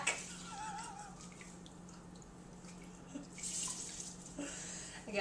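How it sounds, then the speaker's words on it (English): Liquid squeezed from a sack of dandelion petals, trickling and splashing softly and continuously into a container, with faint wet rustling, close and quiet. "these are all the dandelion petals, and I'm just going to squeeze this sack."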